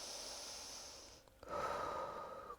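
Close, deep yoga breathing: a long airy exhale gives way after a short pause to a stronger, rushing inhale, with no speech.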